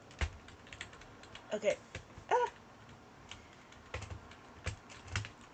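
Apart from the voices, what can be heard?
typing on a computer keyboard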